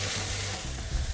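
Skirt steak sizzling on a hot grill for fajitas, a loud, steady, close crackling hiss with no talking.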